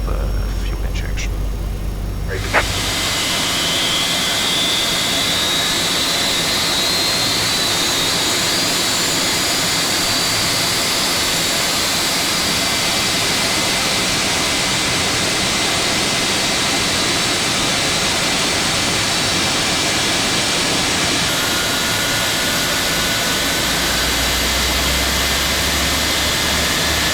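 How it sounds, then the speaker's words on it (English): A Boeing 757-200 jet engine spins up in the X-Plane 11 flight simulator, a steady loud roar with a rising whine that builds and holds for a long stretch after a brief quieter start. "So coming down for engine number 1 now, we can see N2 is increased"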